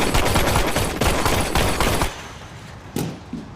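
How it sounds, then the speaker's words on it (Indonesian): A gunfire exchange in a film scene: a dense, loud burst of rapid automatic shots for about two seconds, then quieter scattered reports and a single sharp shot near the end. "Sempat terjadi baku tembak"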